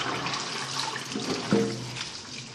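Water runs and drains off freshly rinsed curly lettuce in a sink, a continuous close splashing hiss with a brief gurgling surge midway.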